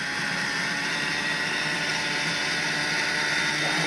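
Flex+ food processor chopping pre-sliced ham on high speed for black bean soup, a steady, loud, continuous motor whir and blade hum that holds unchanged throughout, with no talking.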